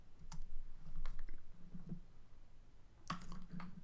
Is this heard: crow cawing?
no